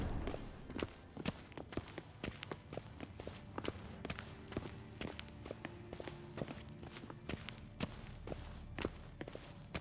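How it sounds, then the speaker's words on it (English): Footsteps in The Witcher 3 video game, a steady run of distinct crisp steps on a hard surface, evenly paced and fairly close, with faint ambient background beneath. "Footsteps."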